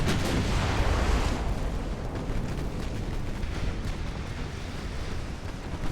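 Naval gunfire in a dreadnought-era battle from the game Ultimate Admiral Dreadnoughts, heavy booming shots and rumbling blasts rolling together in a dense, continuous barrage with no voices.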